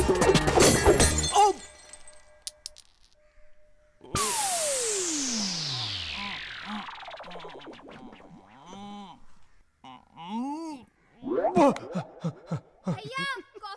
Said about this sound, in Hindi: भैया, कॉफी का कप टूट गया।